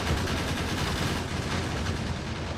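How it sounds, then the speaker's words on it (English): Gun turrets in the video game Factorio fire in a loud, dense, rapid barrage of overlapping shots that continues without pause, with no talk. "Now just I'll start placing these new gun turrets"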